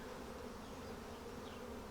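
Honeybees in a home hive drone steadily around an open frame during an inspection, a dense, even buzzing hum that stays close and soft throughout with no talking.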